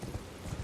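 Horse hooves clip-clop briefly in Elden Ring, a few dull low thuds in quick succession.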